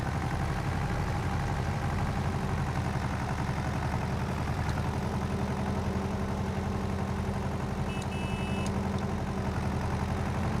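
A John Deere 710 tractor in Farming Simulator 22 running steadily, a continuous mid-low engine hum at even volume with a brief high tone near the end.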